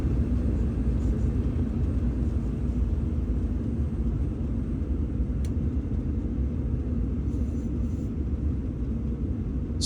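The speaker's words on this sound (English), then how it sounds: "You hop on a plane." An airplane gives off a steady, low, rumbling drone that stays loud and unbroken for about ten seconds, with no voices over it.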